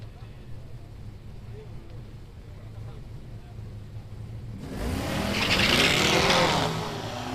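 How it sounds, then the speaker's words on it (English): Street drag race cars launching off the line at a Southeast Street N Yeet event: a low idle rumble with commentary over it, then a sudden loud roaring surge of engines that swells and holds before easing slightly. "The not a cop car leaves the line first in the right lane"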